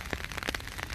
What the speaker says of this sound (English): it's very rainy here in New York